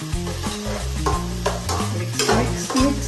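Chicken curry being stirred in a pan, a short burst of scraping and sizzling over a strong tonal music-like background with clear spoon strokes.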